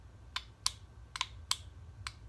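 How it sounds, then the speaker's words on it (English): Spindle bearings of a Quorn tool grinder clicking, heard as about six sharp, light metallic ticks at irregular intervals over a low, quiet hum. "It makes a clicking noise, kind of like a child's toy, little metal clicker"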